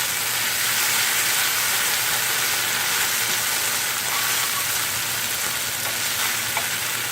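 About an ounce of cream cheese melts and sizzles in a hot pan as a keto mushroom soup base, a steady close hiss of frying with no talking.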